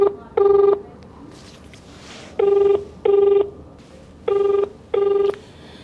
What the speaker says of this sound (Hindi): तो अब इनके सीईओ सुमित्रा सिन्हा जी को फ़ोन हम करेंगे